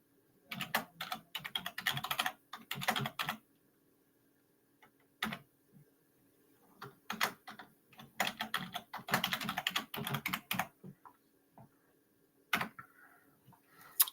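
Bursts of rapid computer keyboard typing come in uneven clusters separated by pauses, crisp and close in a quiet room, with occasional single key taps and no speech.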